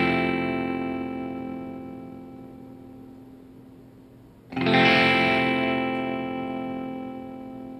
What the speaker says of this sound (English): let that high E string ring out open so you get that